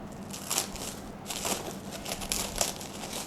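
Cling wrap crinkling as it is peeled off a sponge cake, close and crisp, with bursts of crackling and rustling that come and go over a few seconds.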